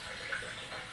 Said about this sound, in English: So I'll run some water in there when I open that up